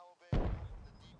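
Tank cannon firing in the military game Arma, a single deep booming blast with a rumbling tail, heard just after a brief voice.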